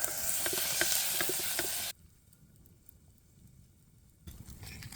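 Garlic and ginger sizzle in hot canola oil in a pot over a backcountry campfire, a loud crackling fry that cuts off abruptly, leaving quiet outdoor ambience before a softer return.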